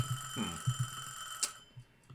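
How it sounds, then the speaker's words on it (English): A timer goes off with a short electronic ringing burst partway through, over faint background clatter and bumps indoors, with no speech. "Well, there's my timer."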